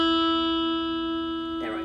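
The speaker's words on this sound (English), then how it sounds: "and for the E string." A lone open high E string plucked on an acoustic guitar rings out as one bright sustained note, decaying gently before a voice briefly starts at the end.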